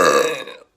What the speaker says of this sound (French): Un jour j'ai fait une vidéo sur TikTok, j'ai roté tout simplement.